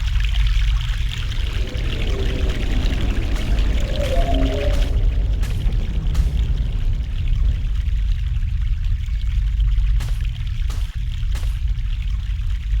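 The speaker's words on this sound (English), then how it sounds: "Fresh mountain water." Fresh mountain water pours and trickles steadily in The Longest Journey game, a continuous close rushing that fills the whole stretch with no talk.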